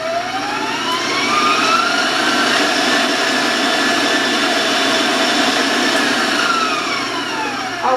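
An electric mixer runs at high speed beating eggs, giving a loud steady whine with a slowly shifting pitch that never stops.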